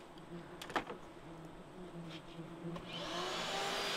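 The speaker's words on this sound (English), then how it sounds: "So a little bit of vacuuming," A vacuum cleaner removing yellow jackets from a nest inside a house, starting faint with a few bumps and clicks, then the motor's whine rising and holding loud toward the end.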